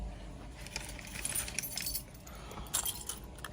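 A janitor-style ring of many keys jangles in broken bursts near the microphone, metallic clinks rising and falling over a low rumbling background.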